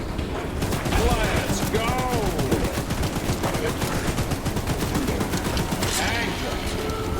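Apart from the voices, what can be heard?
gunfire from a gun in a video game (Choo Choo Charles)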